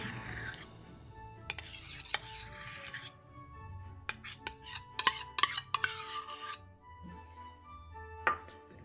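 Pumpkin goes into oat flour for homemade dog biscuits and gets mixed, with clinks of a utensil against a bowl, scraping and stirring in irregular bursts, close and fairly quiet.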